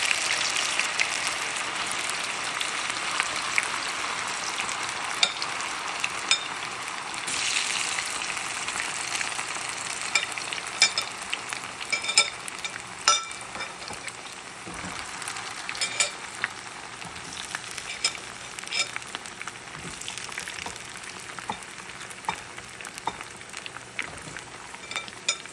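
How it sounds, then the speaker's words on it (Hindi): Cauliflower florets for Gobi Manchurian fry in hot oil over a medium-high flame, giving a steady, dense sizzle with crackling pops throughout and no talk on top. "मीडियम हाई फ्लेम में गोभी को तल लें।"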